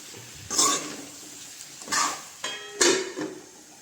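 Potatoes tumble into a metal pot of local chicken curry in a village kitchen, three separate clattering thuds against the metal, close and fairly loud, with quiet gaps between.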